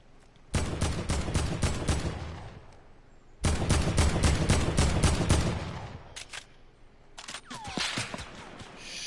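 Bursts of sniper and automatic gunfire ring out in a Fortnite match, two long dense volleys of rapid, loud shots separated by a short pause, then a few scattered shots and a sweeping whoosh, with no talk.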